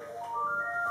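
A phone rings during a break in a DIY session about dosing grout, giving a short steady electronic ringtone with sustained tones, near and fairly loud, with no talk over it.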